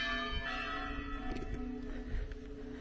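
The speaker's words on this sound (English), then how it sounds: "My albergue is very close to this cathedral, so I'm hoping if those bells go all night that my earplugs will drown it out" Cathedral bells ring as a sustained, resonant tone with overlapping strikes that hum together. They sound moderately distant, and a low background rumble lies beneath them.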